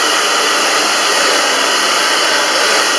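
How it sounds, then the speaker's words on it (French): A hair dryer blows steadily and loudly at high heat, drying a fabric face mask: a continuous airy whoosh with a constant motor whine and no breaks. "Donc vous allumez votre séchoir et vous faites sécher votre masque."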